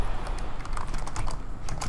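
A computer keyboard typed on in quick, uneven bursts of clicks, fairly close and steady across the short stretch, with no talking.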